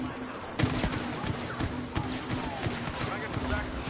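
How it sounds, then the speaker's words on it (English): A concussion-shot grenade launcher fires in Star Wars Battlefront, sharp repeated blasts punching through a busy battle of scattered gunfire, with a steady electronic hum underneath. "Love that grenade launcher. Or whatever it is. It's not really a grenade launcher. It's like what is it? Concussion shots or something?"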